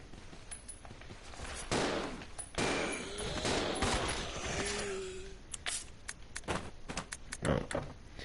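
Shotgun blasts aimed at zombies in Resident Evil 0, a few loud booming shots at the start followed by quieter scattered impacts and game noise, with a voice talking over parts of it.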